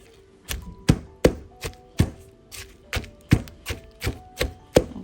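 King oyster mushrooms pounded with salt in a mortar, about a dozen sharp rhythmic thuds at roughly half-second intervals, close and clear, no talking.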